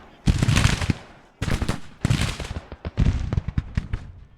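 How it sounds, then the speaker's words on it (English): Civil War-era artillery and gunfire in a battle strategy game crack out in several loud bursts of rapid shots, separated by short pauses, close and punchy. "This artillery is shooting at this enemy cavalry is here."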